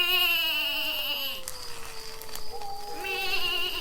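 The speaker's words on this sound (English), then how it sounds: "He's an actual goat." A real blonde-tan goat bleats in a long wavering cry, then a second higher bleat follows after a pause, close and fairly loud with no talk over it.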